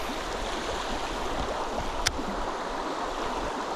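Deep river back eddy in winter, water rushing and churning in a steady broadband wash, with one brief sharp tick partway through and no speech.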